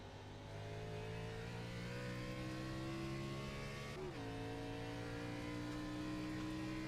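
Race car engines revving and coming around on cold tires at a Gateway down-range transport premier series event, a loud steady engine drone with rising pitch and a brief gear-shift dip midway, no talk.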